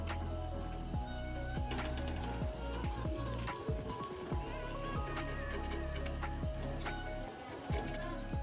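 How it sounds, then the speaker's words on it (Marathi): Bhakri flatbread frying in oil on a pan, a continuous close crackling sizzle with scattered sharp pops throughout. "त्या होलमध्ये आपण तेल टाकून घेणार आहोत, म्हणजे भाकरीची छान अशी खरखूस होते।"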